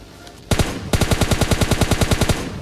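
Rapid automatic gunfire in the mobile battle royale game PUBG Mobile Lite: a single shot, then a steady, evenly spaced burst of about fifteen loud, close rounds with no talking.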